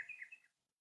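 A bird gives a short, high chirping call that fades out within half a second, faint and somewhat distant, with no one speaking.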